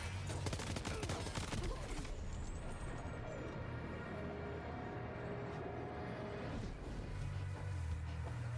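Dense, steady gunfire crackles through a Death Stranding 2 firefight, heaviest at the start and then continuing as a busy background barrage with no talking.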